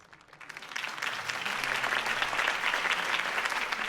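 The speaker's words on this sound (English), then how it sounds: "If only Mr. Wayne, my campaign's largest backer, could have heard that applause" A crowd at a Harvey Dent campaign rally in Batman: The Telltale Series breaks into applause. The clapping swells quickly from quiet to a dense, sustained roar.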